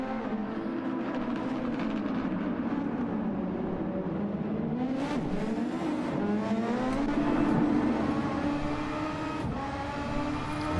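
A P1RCs SF23 race car engine screams during a live race in Canada, its pitch rising and falling steadily through gear changes, loud and continuous for the full stretch with a brief surge of revving midway.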